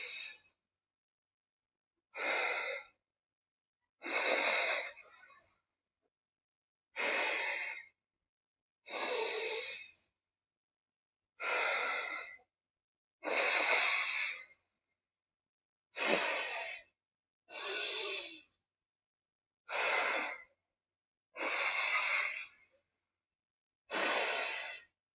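Yogic alternate nostril breathing, inhaling through the left nostril: a dozen slow, airy nasal breaths spaced about two seconds apart, close and clear, with silence between them.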